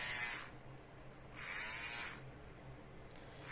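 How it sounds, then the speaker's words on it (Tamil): A Sweet sensitive hair trimmer blade runs in short bursts, a high buzzing whir that comes and goes three times with quiet gaps between, close and faint. "இப்போ வந்து இந்த பிளேடு வந்து ரன் ஆகிட்டு இருக்கு"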